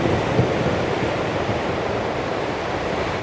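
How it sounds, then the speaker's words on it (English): Choppy sea waves roll in along the Puerto de la Cruz seafront, a continuous loud wash of surf mixed with wind buffeting the microphone. "Them waves rolling in, look."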